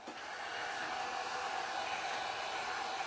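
A handheld hair dryer blows steadily to dry paint on a burlap cross, a constant close whooshing roar with no pauses and no talk over it.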